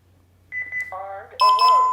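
Honeywell Lyric security alarm system sounding electronic tones as it arms, a short series of stepped beeps rising in pitch and getting louder, ending in a sustained bright chirp, close and clear.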